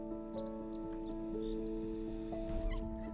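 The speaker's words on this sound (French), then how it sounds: "son d'ambiance un peu forestier avec les oiseaux que vous pouvez entendre derrière" Small birds chirp and tweet in a forest-style ambience around a garden and castle grounds, quick high calls repeating lightly over a steady tonal hum, fairly faint and without speech.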